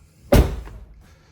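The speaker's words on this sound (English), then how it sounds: "Gonna close the door." A Tesla Model 3 or Model Y car door swings shut with a single solid thump, then a short fading rattle and a quiet tail.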